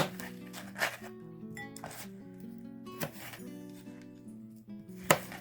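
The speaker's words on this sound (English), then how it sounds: "I'm going to chop this up" Knife chopping snack ingredients on a cutting board in a home kitchen, a handful of sharp, separate thuds and clicks spaced irregularly over a quiet background, close and fairly soft.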